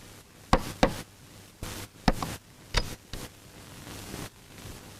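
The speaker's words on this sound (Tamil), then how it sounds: "கதவு யாரா தட்டுறாங்க?" Someone knocks on a house door in a few irregular groups of sharp raps, about seven moderately loud knocks spread over five seconds against a quiet room with a faint hum.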